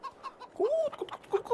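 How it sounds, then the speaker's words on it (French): A hen clucks close by in a few short, rising calls, with faint rustling between them. "C'est une poule."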